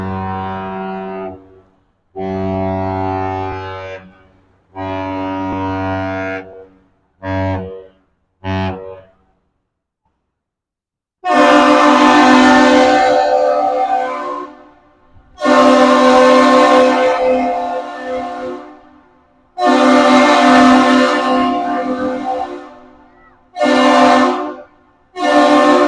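A large ship sounds a deep, loud horn signal while arriving at Duluth's lift bridge: a series of long and short blasts with gaps of silence between them, the later blasts broader and more roaring.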